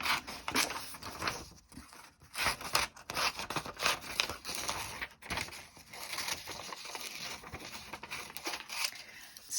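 Scissors snip steadily through paper to cut out a sketch, a run of close, quiet crisp cuts and rustles continuing throughout.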